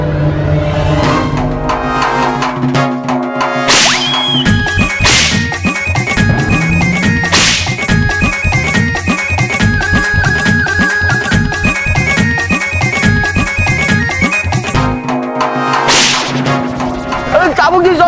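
A whip lashes in a fantasy superhero TV episode, with several sharp, loud cracks spaced across the scene over dramatic background music.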